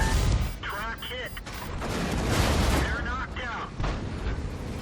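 Tank cannon fire and explosions from a World of Tanks battle, loud booming blasts and rumbling impacts with mechanical clanks, a voice talking over parts of it.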